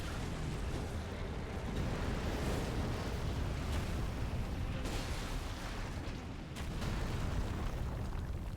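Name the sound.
bomb explosion in the video game Elden Ring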